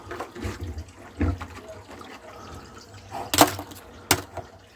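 Water splashing and pouring into a lake filtration setup outdoors, in uneven gushes with two sharper splashes near the end, moderately loud and close, with no talk.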